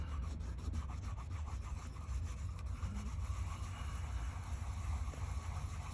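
Steady close rubbing of wax finish into the handle of a Case fixed-blade knife, a continuous dry scrubbing texture with no pauses, fairly loud and alone.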